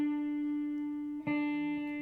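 Guitar sounding a single sustained D note on the B string at the third fret, a clean steady tone ringing out close up, then briefly cut and struck again.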